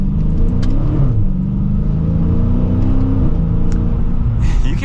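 Dodge Challenger R/T Scat Pack 392 V8 revving loudly and steadily from the driver's seat, a deep rumbling roar that climbs and eases across several seconds, with no talk.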